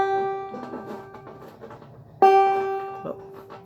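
A 5-string banjo's 4th string, fretted at the 4th fret, is plucked twice. Each bright, twangy note rings out and decays, the second louder, with faint voice-like sound in between.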